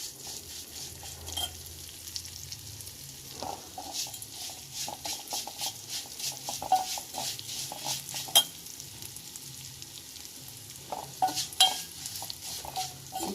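Vermicelli roasting in a pan for semiya sabudana payasam, stirred steadily with a utensil: a continuous dry sizzle and patter broken by frequent scraping clicks against the pan, close and alone.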